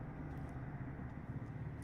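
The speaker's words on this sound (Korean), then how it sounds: "바깥으로 제 창문을 열어놨는데 헬기가 좀 지나가고 있어요." A faint, continuous low rumble of a helicopter passing at night outside an open window, even and unbroken, with nobody speaking.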